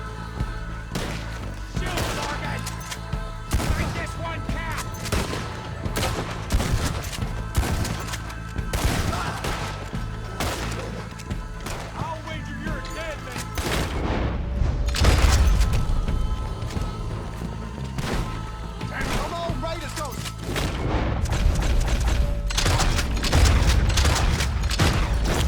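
Pump action shotgun fired repeatedly in Red Dead Redemption 2, heavy booming blasts spaced a second or two apart amid other game gunfire, mechanical clacks and a continuous low soundtrack bed.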